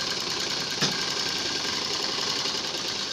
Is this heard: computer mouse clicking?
no